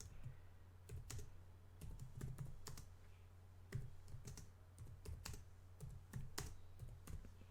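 Someone types on a computer keyboard into Notepad on Windows Server 2016, producing quiet, irregular bursts of keystrokes with short pauses between them.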